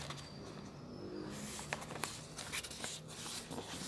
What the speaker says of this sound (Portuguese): Eu vou pegar uma folha de sulfite. Ó, pegar uma folha de sulfite aqui. O que eu faço? Eu vou dobrar ela ao meio.